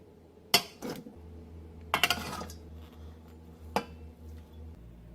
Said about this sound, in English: Add chopped veggies to the pot.